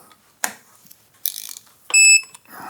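A torque wrench tightens the handlebar clamps on a custom Yamaha Raptor 660 quad: a few separate ratcheting clicks up close, ending in a short, piercing high-pitched tone.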